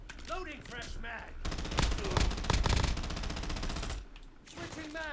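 Gunfire fills a video game played over Xbox Cloud on mobile, with rapid bursts of shots and dense firing in the middle stretch. A voice talks at the start and again at the end.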